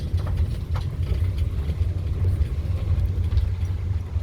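Resort shuttle vehicle driving at Jabakara resort, a steady low engine rumble heard from close by with faint rattles and road noise, and no speech.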